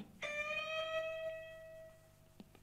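Single guitar note on the high E string at fret 10, bent up a whole step, plucked once and left to ring and fade, faint and heard alone, with a small click near the end.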